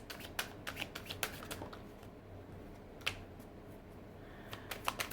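Tarot cards are shuffled by hand in quick irregular bursts of crisp riffling snaps, close and fairly quiet, with short pauses between flurries and no talking.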